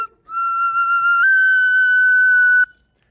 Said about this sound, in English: This is just a little tiny little whistle. This is a little 3-holer that I made.